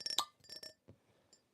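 A blown glass rings with several light, bright clinks close together, then a softer tap and fading chime, faint in an otherwise quiet space.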